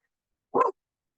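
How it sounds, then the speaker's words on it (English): A single short dog bark sounds sharply and fairly close, surrounded by silence before and after. "I got dogs over here too."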